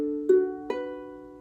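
A ukulele in A, D, F sharp, B tuning is strummed twice, and each bright chord rings out and slowly decays in a quiet room.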